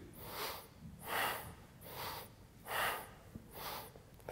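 Deep yoga breathing in a steady cycle of five or six forceful breaths, each lasting about half a second, evenly paced, close and clear with no talking.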